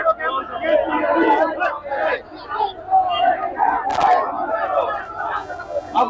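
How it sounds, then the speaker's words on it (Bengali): Crowd of party activists at a street protest in Sylhet chanting slogans together, a dense roar of many voices close by with shouted bursts rising and falling throughout. "নেতাকর্মীরা বিভিন্ন স্লোগান দিচ্ছেন।"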